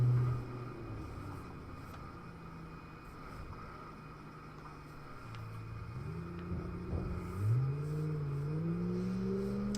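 Three cars drive along a road in the BeamNG.Drive driving game, a steady engine drone with rising revs as they accelerate, continuous and fairly loud with no talking.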